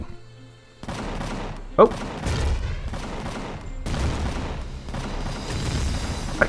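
Gunfire in the sci-fi game Empyrion, bursts of rapid shots and booming impacts rolling on, with a sharp crack early and a brief voice exclaiming.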